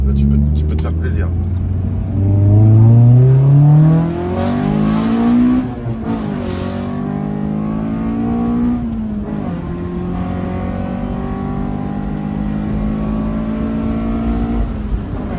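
Honda CRX with a 1.6 i-VTEC engine revving hard and pulling through first gear, its pitch climbing steadily then dropping at the shift, loud and close from inside the car, with voices talking over it.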